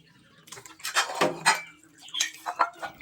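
Dishes being washed at a kitchen sink at home: scattered clinks of plates and cutlery with splashes of water, close and moderately loud, in irregular bursts with no talk.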